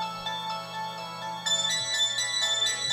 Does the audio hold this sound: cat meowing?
no